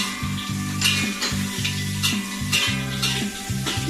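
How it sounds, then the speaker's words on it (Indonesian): Salted fish fries crisp in a hot pan, with a continuous sizzling hiss, periodic bursts of louder spattering and a steady low background tone. "Kita goreng dia sehingga dia menjadi garing, tapi janganlah terlalu hangus lah."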